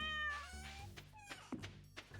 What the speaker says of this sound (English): oh, there's my cat.